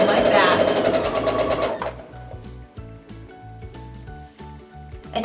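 A sewing machine runs in quick bursts of rapid mechanical stitching as fabric pieces are fed through it for a quilt block, the needle clatter stopping and starting while a voice speaks briefly.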